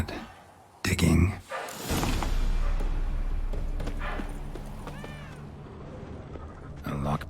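A cat in The Witcher 3: Wild Hunt, Hearts of Stone, gives a short meow mid-scene, heard amid footsteps, a low ambient drone and character speech.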